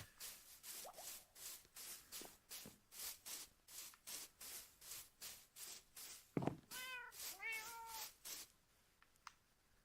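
Minecraft cats meowing a few times near the end, short rising mews heard over a steady rhythmic scratching or footstep-like pulsing that runs throughout.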